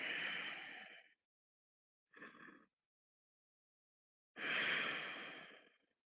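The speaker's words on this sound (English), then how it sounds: "Breathe into it." Three long breaths during a gentle yoga stretch in a runner's lunge: a long exhale, a short inhale after a pause, then another long exhale, close and audible with no talking.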